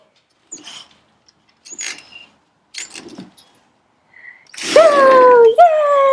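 Dogs whine and yip in excitement indoors before going outside, short bursts of small vocalizations and jangling, ending in a loud, sustained high whine at close range.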